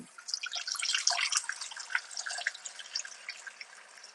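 Fresh tap water running and splashing into a pet's water bowl in a kitchen, a soft, steady trickle with faint drips, heard alone at low level.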